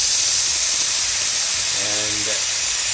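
The steam boiler of a Rocket R58 espresso machine hisses in a loud, continuous, even rush that fills the whole stretch, close up, with a faint low voice murmuring underneath near the end.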